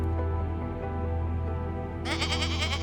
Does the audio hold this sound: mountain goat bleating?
yes